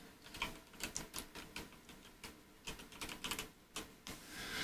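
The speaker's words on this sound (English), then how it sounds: "hit Control F, I think it is, on your keyboard, and it brings this up. And then just type in Night Stalker" Keys clatter on a PC computer keyboard in quick irregular bursts of sharp clicks, close and fairly quiet, with short pauses between clusters of keystrokes.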